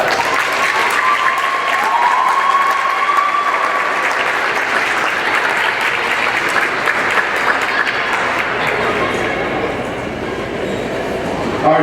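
Crowd applause and cheering for a basketball player at a senior recognition event, a dense, sustained wash of clapping that stays loud throughout with no talk over it.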